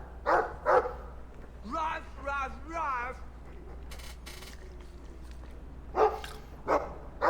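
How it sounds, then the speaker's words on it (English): A dog in a video game, a Mabari war hound, barks a few times near the start and end. Between them comes a whining, whimpering vocal stretch, all over a low ambient game background. "I like the doggy."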